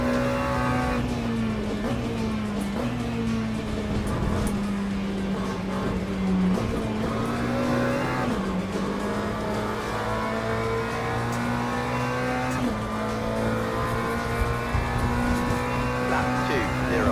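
Race cars in the Le Mans Ultimate sim racing game, engines droning loud and continuous with gear shifts and revs, one car punted by another amid tire noise, under talk.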